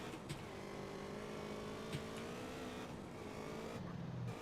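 A motorcycle pulling a wheelie in GTA San Andreas Definitive Edition gives off a faint, steady engine drone with a slight rise in pitch and a few small clicks. No voices are heard.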